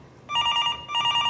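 A telephone bell rings indoors in two short double bursts, a bright trilling ring, moderately loud and alone with no talk over it.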